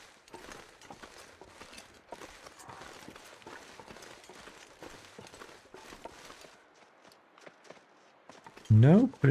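Deer footsteps in the snowy wilderness of The Long Dark video game: a steady run of soft crunching steps, faint and a little distant, over quiet ambience, ending in a sudden loud burst.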